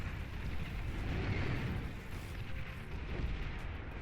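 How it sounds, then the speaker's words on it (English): Banisher units firing in the real-time strategy game Beyond All Reason: a continuous rumbling barrage of booming shots and blasts under a dense, noisy wash of battle sound, steady and fairly loud for the whole stretch, with no voices. "Banisher misses its shot."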